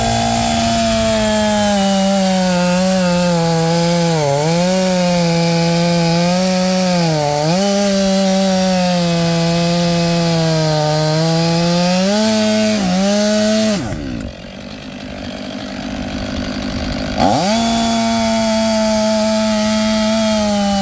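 STIHL MS 500i chainsaw cutting wood, a loud sustained buzzing whine that dips in pitch as the chain bites, briefly drops to a lower note, then revs back up near and alone.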